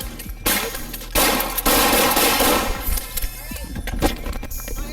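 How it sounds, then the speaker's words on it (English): Police fire a burst of gunshots at a man threatening officers with a metal pole. Loud, harsh blasts come in quick succession amid shouting and clanging, with the noise staying dense and chaotic throughout. "Shots fired."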